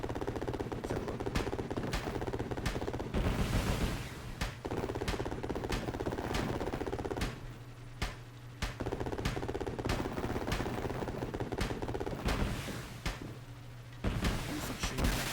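Gunfire rattles through the helicopter action game Urban Strike. Rapid bursts and single shots hammer away almost without pause over a steady droning engine hum. The mix is loud and dense throughout.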